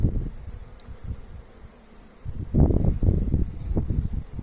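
Honeybees buzz in an apiary, a steady low hum that swells louder and closer in the second half.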